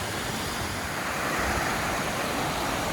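A wide creek crossing a wilderness hiking trail rushes steadily, a loud continuous broadband roar of flowing water with no voices.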